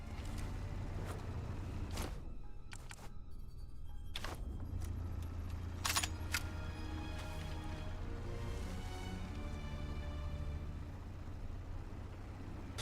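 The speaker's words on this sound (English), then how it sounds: "Where's this motorbike going?" A motorbike in the Sniper Elite 5 video game: a steady low engine drone that holds throughout and is broken by sharp clicks and metallic clatters, with no talking.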